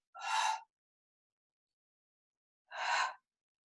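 Two soft, separate breathy exhales during a Pilates mat exercise, a few seconds apart, close and quiet against silence.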